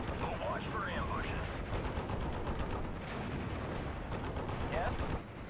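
Dense battle noise from Steel Division: Normandy 44: a continuous rumble of artillery and gunfire with sharp shot bursts, clattering mechanisms and faint radio-style voices underneath, steady and loud throughout.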